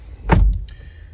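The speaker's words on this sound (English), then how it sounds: "let's close the door." The door of a 2017 Honda CR-V swings shut with one solid, close thud, then a short quiet settle afterward.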